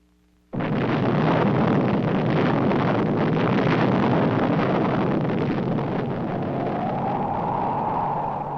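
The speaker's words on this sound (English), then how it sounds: "the successful test of the world's first atomic bomb at Alamogordo, New Mexico, changed everything" The first atomic bomb test at Alamogordo, New Mexico, in July 1945 erupts as a sudden, massive blast that instantly becomes a sustained, loud, wind-like rumbling roar, slowly easing but continuing to the end with no voices.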